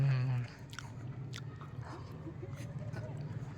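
Crunchy bites and soft chewing of cookies with chocolate chunks, a few quiet close-up crunches followed by faint mouth sounds, after a brief voice at the start.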